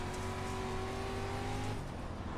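An asphalt modified race car in iRacing runs alongside with a steady, loud engine drone and a slightly shifting pitch, close and continuous with no voices.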